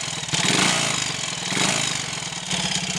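A Triumph Tiger Cub motorcycle engine idles while the bike stands still, a close, steady single-cylinder putter with a loose rhythmic thump that swells slightly every second or so.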